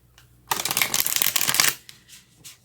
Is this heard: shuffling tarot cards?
yes